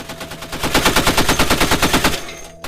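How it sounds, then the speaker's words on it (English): Rapid sustained machine-gun fire during U.S. Navy live-fire weapons training, a loud steady burst of evenly spaced shots lasting over two seconds before cutting off. "you finally get to shoot the gun"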